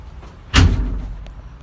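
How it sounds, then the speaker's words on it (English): A back door of a vehicle swung shut with a single solid slam, a sharp thud followed by a short low rumble fading out, close by with no talking. "close one of the back doors just to get the glare off this screen"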